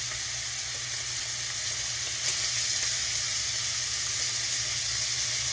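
Beef for stroganoff sizzles steadily in hot oil on a high burner, a dense, continuous frying hiss with a low steady hum beneath and no talking.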